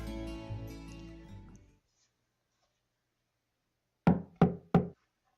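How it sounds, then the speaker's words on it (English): Three sharp knocks on a door in the video game Trails of Cold Steel, evenly spaced and crisp, heard alone after a stretch of silence that follows some earlier game sound. "Knock and enter."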